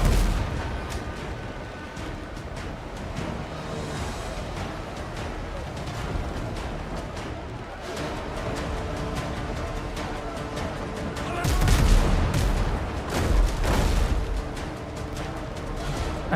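Ship cannon volleys in the video game Windrose, heard as booming blasts and rumbling impacts under a dense wash of game noise and music, with the heaviest bursts late in the clip.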